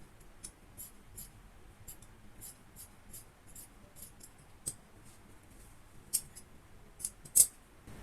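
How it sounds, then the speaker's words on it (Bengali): Scissors snipping fabric neck strips for a kameez, a string of soft, sharp close-up cuts spaced irregularly over several seconds with a few crisper snips near the end, in a quiet room with no talk. "গলার পট্টিগুলো কাটবো।"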